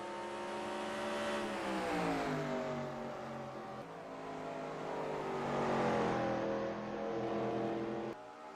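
Race cars lapping Richmond in a racing video game, engines droning steadily and rising and falling in pitch as they rev through the turns, continuous and fairly close with no talk.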